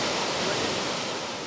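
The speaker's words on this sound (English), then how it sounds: "watch the massive amount of water going through" A massive torrent of Greenland meltwater rushing through a channel, a loud, steady roar of churning water filling the whole short stretch without a break.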